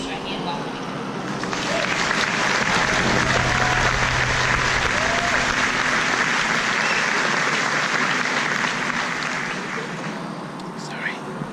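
An audience at Harvard Business School Class Day 2017 breaks into loud, sustained applause welcoming the speaker to the podium, swelling quickly and tapering off after about ten seconds.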